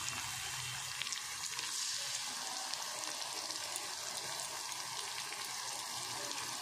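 Whisked yogurt hits spices frying in a pan, bringing a constant, fairly quiet hiss and crackle with faint stirring under it, no voices.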